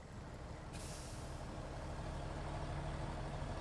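A heavy truck in Snowrunner strains to pull a trailer, a steady low engine drone that holds at constant loudness, with a short hiss of air partway through.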